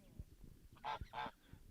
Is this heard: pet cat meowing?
no